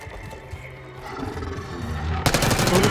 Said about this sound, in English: Bullets are moving.